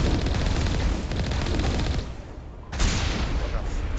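A tank's main gun firing in Mass Effect Legendary Edition, a loud sustained roar of rapid blasts with a brief dip before the next burst, heard up close with no voices.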